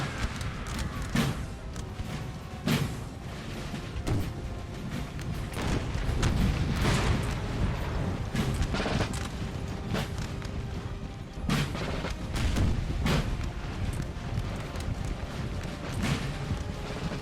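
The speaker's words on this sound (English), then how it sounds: "I think maybe they switched to canister shot there." Canister shot artillery thunders across a Napoleonic battlefield in Napoleon: Total War, with repeated booms and crackling volleys layered over a dense, continuous roar of battle noise.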